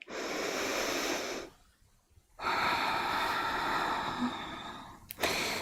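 Long, breathy exhales and inhales during a yoga stretch, close and loud: one extended breath, a brief quiet pause, then another sustained breath ending in a short sharp catch.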